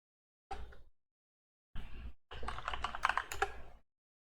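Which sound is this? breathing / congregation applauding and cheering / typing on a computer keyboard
typing on a computer keyboard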